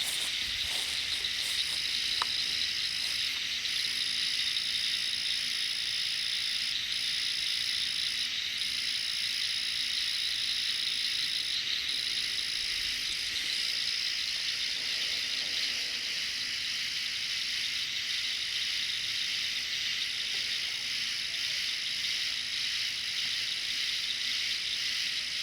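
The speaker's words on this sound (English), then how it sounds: "why don't we just sit back and listen to the frogs? I think those are frogs and everything." Frogs call outdoors at Fall Creek Falls in a dense, steady, high-pitched chorus that keeps up without a break, with faint pulsing layers inside it and no voices.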